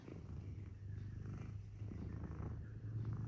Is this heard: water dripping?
no